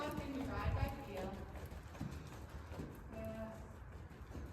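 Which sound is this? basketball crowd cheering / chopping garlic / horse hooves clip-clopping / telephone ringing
horse hooves clip-clopping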